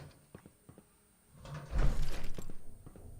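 A locked door in the video game Fallout 4 opens: a few soft clicks and taps, then a louder sliding, scraping swell of the door moving aside that rumbles on to the end.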